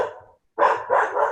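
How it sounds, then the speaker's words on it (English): A neighbor's dog barks a few times at middle distance, sharp separate yelps after a short quiet gap, with nobody talking. "Neighbor's dog."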